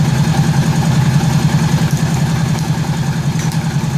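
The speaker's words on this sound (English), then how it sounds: "It's got a good idle to it." A 1983 Honda GL1100 Aspencade motorcycle engine idles steadily up close, a loud, even low-pitched thrum with a fast regular pulse and no voices over it.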